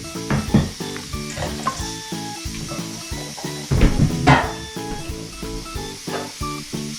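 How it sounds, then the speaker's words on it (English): Beef hisses and sizzles in a hot pressure cooker, the frying loud and close with scraping stirs and bursts of crackle throughout. "put the beef in"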